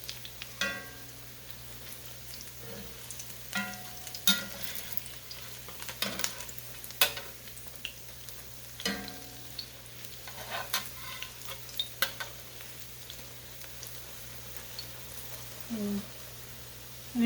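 Hush puppy cornbread patties fry in a pan with a steady low sizzle, broken by scattered clinks and scraping of a utensil, while people talk nearby now and then.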